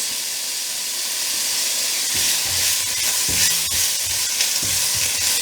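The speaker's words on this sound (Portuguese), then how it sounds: "Vamos manter assim até a carne dar uma pequena dourada." Seasoned meat sizzles in a pan over medium heat, giving a bright continuous hiss and crackle, with a few low knocks and scrapes of a utensil in the second half and no talking.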